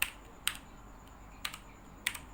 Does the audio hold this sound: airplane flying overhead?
no